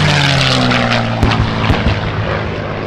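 A warbird propeller plane, a homebuilt aircraft, drones past overhead at an airshow, a steady loud engine roar with a throbbing propeller tone, a few sharp crackles rising in the middle.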